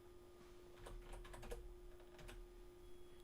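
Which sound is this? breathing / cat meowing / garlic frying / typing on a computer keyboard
typing on a computer keyboard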